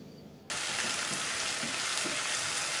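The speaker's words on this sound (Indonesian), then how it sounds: "sekarang ini minyaknya mau kita pakai untuk gongsong cabenya tadi sudah tadi kita giling. Kita aduk-aduk" Ground chili frying in hot oil while being stirred, a steady close sizzle starting abruptly and holding loud and even, with soft scraping of the stirring underneath.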